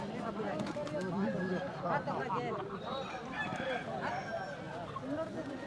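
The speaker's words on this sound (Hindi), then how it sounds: "ये अब आपको लाइव दिखाएंगे कि कैसे मुर्गा लड़ाई यहाँ पर होती है।" Roosters fighting in a village cockfight in Bastar, their honking, squawking cries sounding close and loud amid a crowd's constant overlapping talk.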